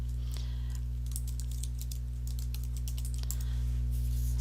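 Rapid, irregular keystrokes on a computer keyboard, a steady run of close, crisp clicks over a constant low electrical hum, with no voices.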